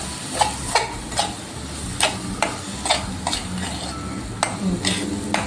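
Mango pulp being stirred into semolina shira in a pan, with repeated scraping strokes and taps of a spoon against the pan at an irregular pace, close and clear over a soft sizzling background.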